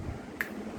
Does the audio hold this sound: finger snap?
yes